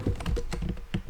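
Rapid, close keystrokes clatter on a computer keyboard in an even rhythm, with no voices over them.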